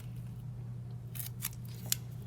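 Quick snips of tape being cut to hold a drawing in place, heard as a few short, crisp cutting sounds close by over a steady low hum, with no one speaking.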